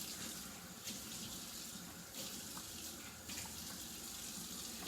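A kitchen faucet runs steadily while shrimp are rinsed under it, a quiet continuous stream of water with small splashy variations.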